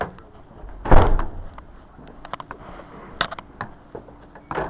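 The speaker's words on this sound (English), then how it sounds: "Basically, one door opens, we have to close it before the other one opens." An airlock door clunks open with a loud thump near the start, followed by scattered mechanical clicks and latch knocks, then another knock at the end, all fairly close with no talking.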